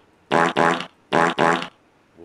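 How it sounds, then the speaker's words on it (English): Four loud, buzzy fart sound effects are triggered on cue in a late-night TV comedy bit, arriving as two quick pairs of short blasts separated by a brief pause, with no voices over them. "let's hear some farts"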